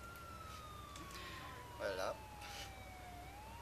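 A siren on an emergency vehicle in Grand Theft Auto IV wails in a slow, long steady tone that drifts gently in pitch, with a brief voice cutting in midway.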